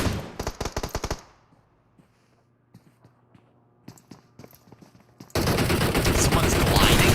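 Gunfire from the PUBG Mobile battle royale game: a quick burst of rifle shots rings out, then a quieter stretch of scattered footsteps and clicks, then a loud, dense, sustained roar of noise to the end.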